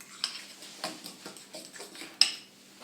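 A spoon scrapes and clinks against a pan while sauce for fried chicken is stirred, several light irregular taps and scrapes, close and fairly soft.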